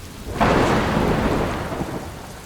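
A thunderstorm brings a heavy rumble of thunder that swells about half a second in, then rolls on and slowly fades over a constant wash of pouring rain.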